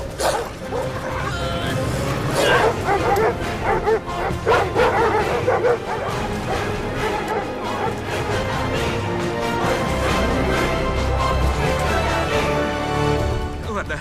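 A dog gives bursts of barking mixed with yips and whimpers, loud and fairly close, over a busy background of other sounds throughout.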